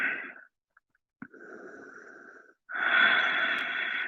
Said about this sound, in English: Deep breath in, deep breath out.